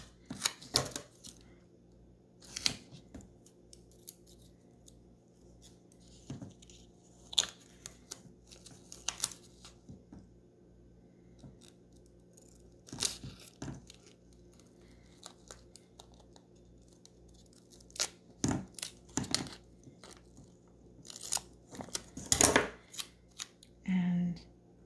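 Scissors snip and trim excess fabric or material from a handmade doll purse, giving scattered short cutting and rustling sounds, close and moderately loud, with quiet talk at moments.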